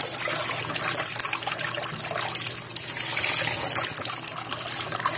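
Rice being washed under running tap water, a steady broadband rush and trickle of water flowing continuously and fairly close, with no talking.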